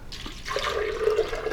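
Three cups of water poured into a container for an almond milk base, a splashing stream that steadies into a gurgling, rising fill, close and alone.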